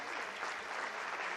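An audience claps steadily to encourage schoolchildren at a school gathering, a dense, even burst of applause filling the room with no voices over it.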